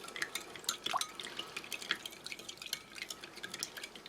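Spoon stirring lemon tea mix in a cup to dissolve sugar left on the bottom: a quiet run of light clinks and liquid swirls, steady and close, with no talking.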